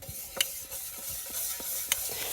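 Metal pots and utensils are scrubbed by hand, giving continuous gritty scraping with a couple of sharp clinks, steady and fairly close, with no one speaking.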